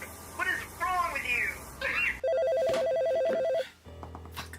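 A telephone rings with a loud electronic warbling trill lasting about a second and a half. Before it, a person speaks, and the ringing cuts off into quieter background sound.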